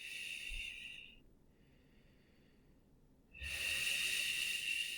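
Slow, relaxed breathing: a steady hissing exhale, a quiet pause, then another airy breath, close and soft with no talking.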